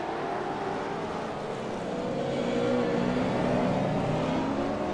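V8 race cars lapping the Long Beach street circuit in iRacing, engines droning and shifting in pitch as several cars accelerate together toward a hairpin, a continuous layered roar at moderate level.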